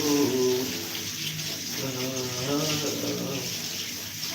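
Tap water runs steadily into a basin while hair is rinsed during home hair dyeing, a continuous close splashing hiss with faint voices underneath.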